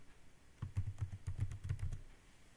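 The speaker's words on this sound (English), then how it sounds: "You need to press escape and then colon and then WQ and then hit an enter." Keys on a computer keyboard are pressed in a quick short sequence of soft clicks, close and quiet, with no voices.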